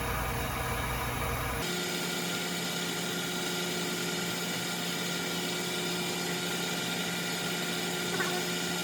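A vacuum pump runs on a rotary evaporator during a guaifenesin synthesis in an organic chemistry lab, giving a steady, even mechanical hum and whine that holds at a constant level throughout.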